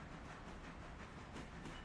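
A train pulling in from the game Railroader gives a faint, steady rolling rumble with soft rhythmic rail clatter, continuous and distant, with no voices.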